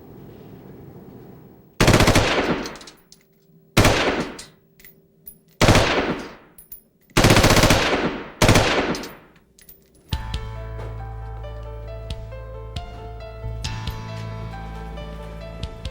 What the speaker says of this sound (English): To see if a particular gun had been used in a crime, a ballistics expert test fires it